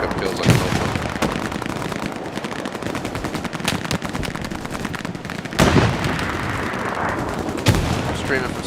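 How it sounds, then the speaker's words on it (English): Rapid machine-gun bursts and rifle fire rattle continuously through a World War II battle in Hell Let Loose, with heavy artillery impacts booming near 0.5, 5.7 and 7.7 seconds, loud and dense throughout. "Artillery striking the shit out of us."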